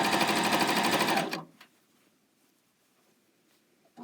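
A Janome CoverPro 900CPX coverstitch machine runs fast and steady as it stitches off the edge of the fabric, a close, loud mechanical whir that stops abruptly after about a second, leaving near silence.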